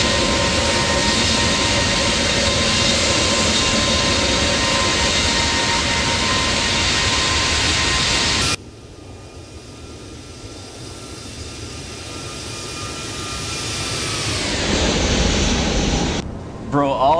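An airliner's jet engines roar loud and steady at full takeoff power in the flight simulator X-Plane 12 at Jacksonville, Florida, then the sound cuts to a quieter engine whine that gradually builds again.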